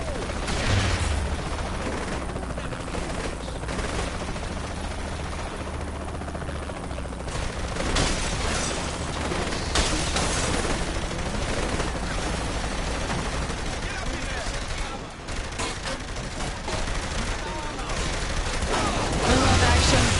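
Video game gunfire in a run-and-gun fight, sustained bursts and volleys rattling across the whole stretch, loud and continuous, with a voice talking over parts of it.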